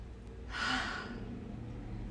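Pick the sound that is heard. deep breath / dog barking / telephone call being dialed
deep breath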